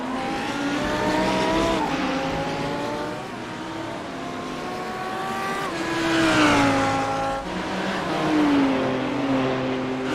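Engine of a teal, black and white Audi GT3 race car in a racing video game at Suzuka, a loud sustained whine rising and dropping through gear shifts with several overlapping cars close by, no talk.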